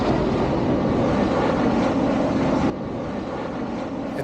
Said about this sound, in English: since it's directly in the flight path, when a plane would fly over